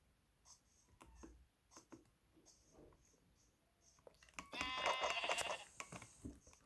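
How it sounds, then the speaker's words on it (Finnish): A sheep bleating in Minecraft, one wavering bleat in the second half over quiet clicks and scratchy sounds, fairly faint overall. "Lammas. Lammas."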